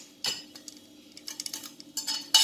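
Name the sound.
spooning cooked keema mince into a mixing bowl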